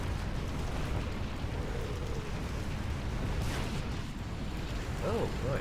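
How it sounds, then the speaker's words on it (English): Mortar rounds burst in the air in the war game Rise of the Reds, with dull booms over a constant rumbling battlefield roar while people talk. "You can actually see the grenades, the mortars explode in the air"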